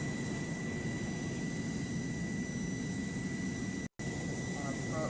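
A flight game plane's engine gives a continuous jet-like whine and hum with a thin steady tone on top, cutting out for a split second midway, with no voices present.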